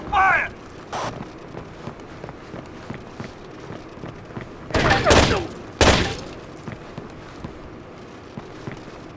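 Gunfire crackles through a Rainbow Six 3 firefight on Xbox, with scattered shots and two loud, dense bursts near the middle amid footsteps and mechanical clatter; voices call out under the shooting.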